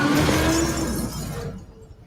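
Glass shatters loudly as a vehicle smashes through it in the video game Split Fiction: a dense, bright crash that sustains, then quickly fades to quiet within two seconds.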